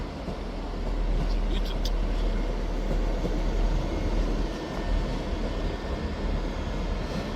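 A Class 158 diesel unit, 158721, pulls out of Edinburgh Waverley running as empty stock, a steady low engine rumble and wheel noise sustained throughout, with station ambience and voices around it.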